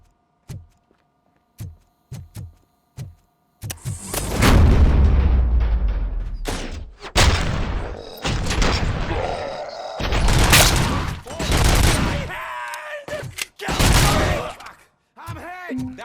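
Gunfire in the video game Robocop: Rogue City: a few isolated sharp shots, then dense bursts of loud rapid fire and heavy booms in clustered volleys, with brief gaps between them and game voices shouting in between.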